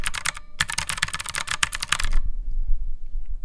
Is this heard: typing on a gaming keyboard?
yes